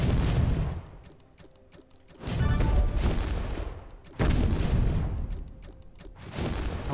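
Missiles launching in the factory-building video game Infinifactory: loud bursts of booming fire arrive in waves, with sharp repeated blasts layered over a dense rumbling roar.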